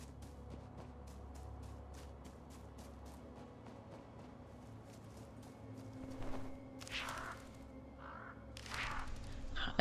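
Crows caw in Reka, a witch cabin video game: a few harsh, short calls rise over a steady, quiet ambient bed with rhythmic ticking.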